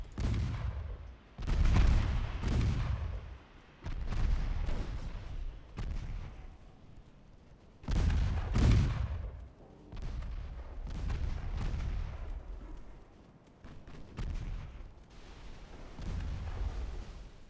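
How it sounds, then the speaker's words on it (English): Torpedo hits and naval gunfire from a 1914-1915 French campaign in a naval war video game boom heavily in repeated deep blasts, each with a rumbling tail, spaced every couple of seconds across the clip. "Torps are hitting."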